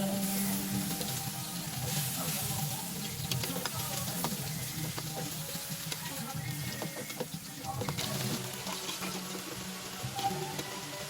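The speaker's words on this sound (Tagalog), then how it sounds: "itosta muna natin ang chicken" Chicken pieces sizzle and fry in a pan while being toasted for pancit bihon, a steady low crackle with occasional stirring clinks, fairly quiet throughout.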